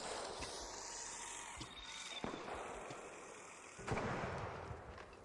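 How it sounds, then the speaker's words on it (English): Gunfire in the online shooter game ARC Raiders, with a few sharp reports near 1.6, 2.2 and 3.9 seconds over a dense, noisy in-game battle backdrop. "What is shooting at me? Why are you shooting at me?"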